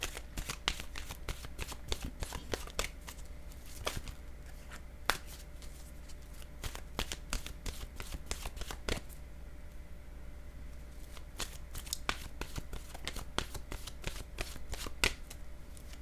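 Oracle cards being shuffled by hand, a steady run of soft, crisp riffling taps and flicks, close and fairly quiet, going on alone without talk.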